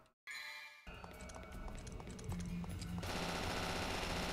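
Rapid automatic gunfire in Devil May Cry 2 rattles out in a dense, loud stream with metallic pings, growing busier and fuller toward the end; no talking.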